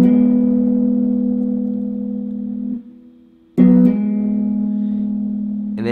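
A guitar hammer-on with the ring finger at the 11th fret of the 5th string: a sustained, ringing note that fades, then a fresh struck note rings on, alone and close.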